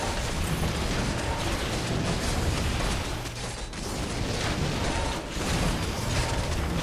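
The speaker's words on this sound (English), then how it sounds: "Peasants actually chipping away at the mine, and so are the flying machine bombs." Warcraft III peasants chipping at a gold mine alongside exploding flying machine bombs, a dense, continuous clatter of mechanical hits and small bursts layered over game noise for the whole stretch, with a brief dip midway.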